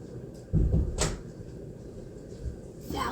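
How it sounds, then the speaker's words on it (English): A stuck drawer being shoved that won't shut: a cluster of dull wooden knocks and rattles around the half-second mark, then quieter bumps and another knock near the end, in a quiet indoor room. "Why is my drawer not closing, bro?"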